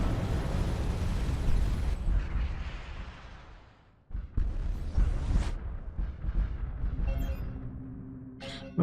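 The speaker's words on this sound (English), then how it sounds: "Oh, we destroyed that station by accident." A space station blowing up in the video game Starcom: Nexus, a loud, rumbling explosion that fades out over a few seconds before a second burst of crashing, booming noise follows.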